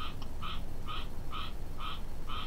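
Frogs croak in a steady rhythm, five evenly spaced two-toned calls repeating about every half second over a low, continuous background rumble.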